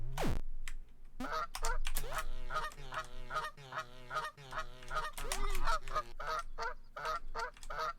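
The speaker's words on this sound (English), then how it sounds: "It's like a real goose." Repeated loud honks from a goose in a video game, harsh nasal calls coming in quick bursts one after another, close and prominent, with faint clicking like keyboard typing in the background.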